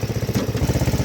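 A Murray riding lawn mower's small engine runs steadily nearby with a rapid, regular pulsing chug and a low rumble, heard alone with no talking.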